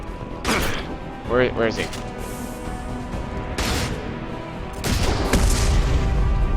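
Heavy anti-tank rifle blasts and other gunfire boom in a Mass Effect 2 battle, several sharp loud reports spaced across the scene, with a short spoken line and an alien voice cutting in between shots.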